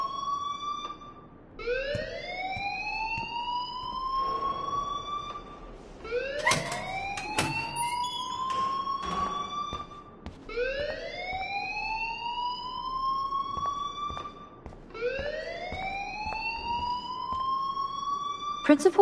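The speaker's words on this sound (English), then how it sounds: "please turn off that alarm since that's your job" An alarm in the video game Life is Strange wails repeatedly, with rising siren-like sweeps about every four seconds, loud and close, with some clattering noise in between.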